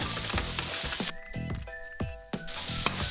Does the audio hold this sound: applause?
no